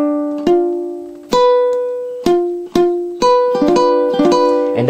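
A ukulele string, the E string fretted at the first fret with an incorrect hold, gives a muffled tone as it is plucked about seven times in an uneven rhythm, close and clear with no voices.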